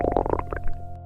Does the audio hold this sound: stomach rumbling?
yes